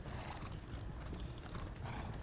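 Horses clip-clopping in the Battle of Bautzen wargame, Napoleonic Horse Guards and Emperor's Cuirassiers on the move, a faint, busy patter of hooves with a few sharp metallic clicks over a low background.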